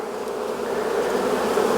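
A steady, dense buzz of many honeybees swarms close around an opened hive, continuous and fairly loud with no voices.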